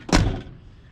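A car door on a hot rod, its broken return spring just repaired, swings shut with a single solid thunk that fades quickly, heard alone.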